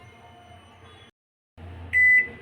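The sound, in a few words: microwave oven beeping as it is set to preheat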